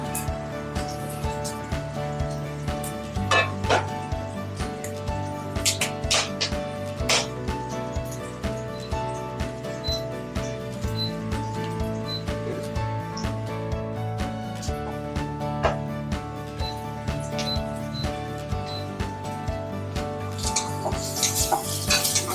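Shallots and chili stir-fried in a pan for a Padang-style meal give a soft sizzle with occasional utensil scrapes, heard beneath steady background music.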